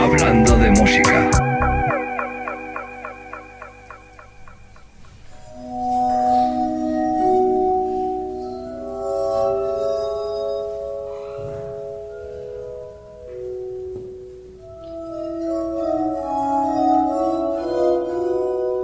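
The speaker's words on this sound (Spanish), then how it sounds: "Estamos escuchando el Glass Armónica." Glass harmonica, also called a glass armonica or crystal harmonica, plays sustained, ringing glassy tones that layer into melodic lines, loud and close, with no talk over the notes.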